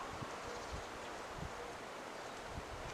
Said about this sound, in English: The wind's blowing really good today.